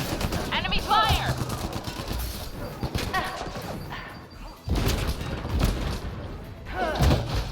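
Enemy gunfire in the Mass Effect Andromeda multiplayer game, with dense bursts of shots and impacts cracking repeatedly through loud combat noise while players talk and shout over it.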